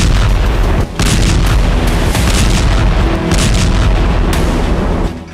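Bombs exploding across southern and eastern Lebanon in wartime: a dense, continuous barrage of heavy booms and blasts, loud and close, with rumbling low end and repeated sharp bursts and no speech.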